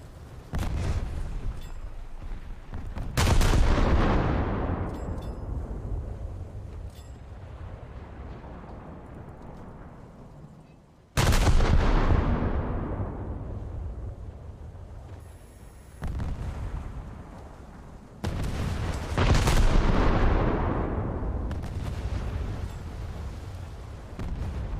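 Video game gunfire booming out in three heavy blasts, each a sharp loud onset trailing off into a long rumbling decay, with no talk over it.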